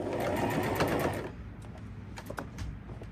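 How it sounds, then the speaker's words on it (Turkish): Sewing machine stitching a denim skirt made from old jeans, a dense rapid whirring run lasting over a second, then stopping, leaving quieter handling clicks and rustles. "Dikiş makinesinde dikebilirim."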